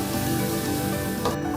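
Ginger, garlic and fennel paste frying in a pan for fish biryani while being stirred, a steady close sizzle with light scraping from the stirring, no voices.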